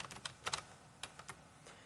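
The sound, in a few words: typing on a computer keyboard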